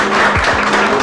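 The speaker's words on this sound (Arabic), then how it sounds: "تصفيقة كبيرة على يدين" An audience claps for a prize winner at an event, with dense, steady applause filling the short moment at close range.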